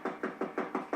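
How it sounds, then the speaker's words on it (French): Knocking on a door, six evenly spaced sharp knocks in quick steady rhythm, close and moderately loud with no voices. "Allez, tape à la porte."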